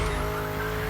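A car drifting in Motorfest with a sustained tire squeal over a steady engine note, loud and brief, with a thin rising whine above.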